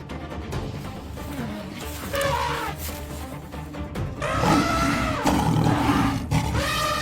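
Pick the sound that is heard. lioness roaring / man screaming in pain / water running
lioness roaring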